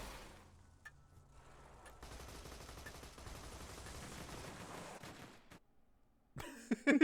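Gunfire in the video game Borderlands 2, a quiet run of rapid automatic shots rattling on for several seconds, then a brief gap before a louder burst at the end.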